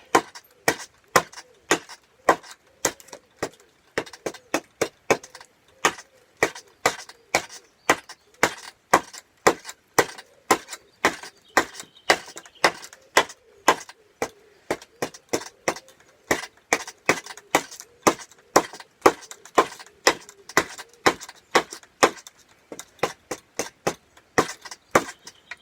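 An axe strikes again and again into a wooden kuksa bowl while the handle is carved out. The dry, close chops come at a steady, brisk rhythm for a long stretch with no voices.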